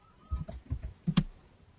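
A handful of close computer keyboard keystrokes, tapped in a short, uneven burst with two sharper clicks near the end, in a quiet room.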